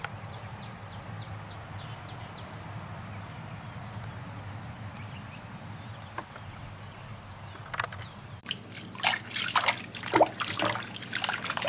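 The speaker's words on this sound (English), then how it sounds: "washing the Swiss chard" Swiss chard rinsed under running water, a steady trickle and splash in the background that grows louder and busier near the end as the leaves are handled under the stream.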